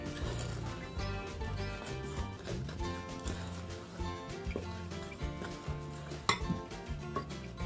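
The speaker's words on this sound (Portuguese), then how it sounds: "Vou dar uma mexidinha aqui com a colher" A spoon stirring salt and yogurt biscuit dough ingredients in a bowl, with steady clinking and scraping against the bowl over a constant musical background.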